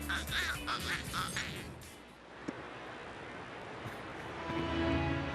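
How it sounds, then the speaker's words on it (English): A duck quacks a few times in quick nasal bursts at a baseball game in Angel Stadium, moderately close, before a steady background wash of crowd and ambient noise takes over. "Duck sounded a little hot."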